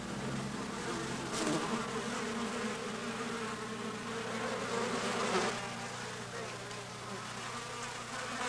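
A cloud of mosquitoes hums continuously around a waiting hunter outdoors, a thin, whining buzz that holds steady and close at low volume with no voices.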